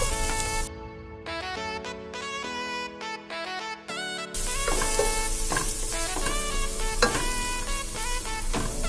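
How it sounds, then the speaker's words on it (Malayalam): Onions sauté in a pan for masala macaroni, a steady, close sizzle and crackle of frying with occasional stirring scrapes, layered under a musical background. "എന്നിട്ട് ഇതൊരു ഗോൾഡൻ കളർ ആവുന്നവരെ നന്നായിട്ട് വഴറ്റി കൊടുക്കണം"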